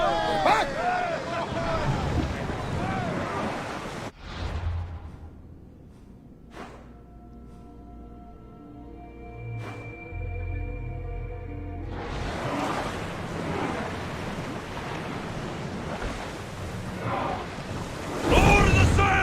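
A sailing ship at sea in Assassin's Creed Odyssey, with wind and water rushing loudly over several seconds, then a calmer stretch with tonal game music before the rushing returns, voices calling out at times.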